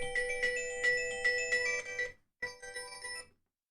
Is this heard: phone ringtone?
yes